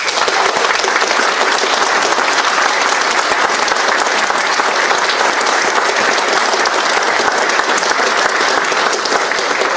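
Loud, sustained applause from a racing crowd honoring supermodified drivers and figures at an oval racetrack, dense continuous clapping for nearly ten seconds with no letup.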